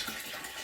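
Water flushing steadily through a rainwater harvesting pipe at a micro tiny house, a continuous broadband rush with no breaks, heard close and fairly quiet.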